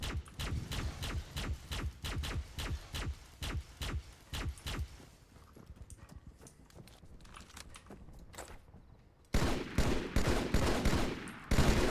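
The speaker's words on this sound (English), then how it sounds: "I love the sounds this gun makes." A Halo battle rifle fires in steady rhythmic bursts of sharp, punchy shots, pauses amid quieter game noise, then resumes firing loudly near the end.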